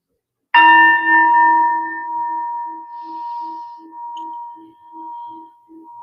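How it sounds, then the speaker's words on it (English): A single gong struck once at close range, ringing out with a bright attack and a long sustained hum that slowly fades, with a faint pulsing shimmer as it decays over several seconds. "Let's start with the gong, one of the gongs, this one."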